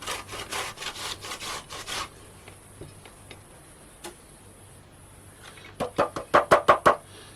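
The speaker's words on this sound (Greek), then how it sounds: "κόβουμε τα κολοκύθια και τα βάζουμε σε ένα σουρωτήρι" Knife slicing through several washed zucchini on a board, a steady run of scraping, sawing strokes followed by a burst of sharper rhythmic chops near the end, close and alone.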